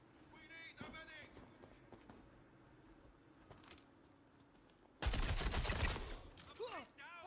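AI turrets in a video game fire a loud burst of rapid gunfire late on, after quieter scattered shots, with a player's voice heard before it.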